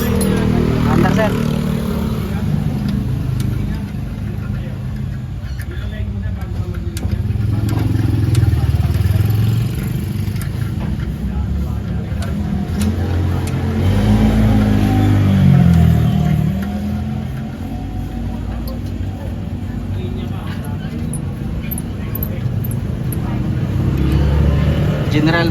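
Isuzu 4HF1 truck engine, just back from a steering gearbox repair, runs and revs with a steady low rumble and clattering diesel idle that swells and eases in a few rev rises, with voices talking over it.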